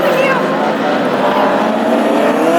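Classic hot rods roar around a Tipperary circuit on installation laps, a loud, continuous, buzzing engine drone with a slight pitch sweep as the cars pass close by, and a commentator talks over it.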